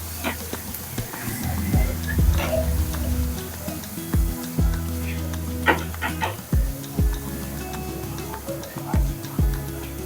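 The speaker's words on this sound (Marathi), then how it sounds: "कांदा छान परतून मऊ करून घ्यायचा" Onion sautéing in a pan for whole masoor lentil amti, with clinks of a spoon stirring against the metal and a soft sizzle, under a voice talking throughout.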